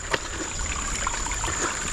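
Stream water flowing past a forest crossing point in Dover Forest, Singapore, a steady close trickle and babble with a constant high insect-like whine above it and no speech.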